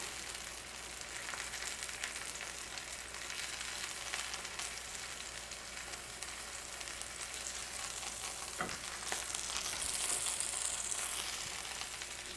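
Pork chops sizzle in a hot skillet as they brown, with a steady, dense crackling fry and spitting fat, close and continuous without talk.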